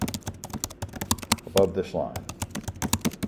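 Fast clicking keystrokes come from a computer keyboard as someone types, uneven bursts of sharp taps with a person speaking briefly partway through.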